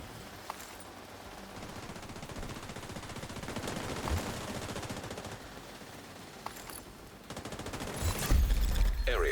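Rapid bursts of gunfire from allied soldiers in a shooter game, steady automatic fire with scattered sharper shots, growing louder and denser toward the end, no voices.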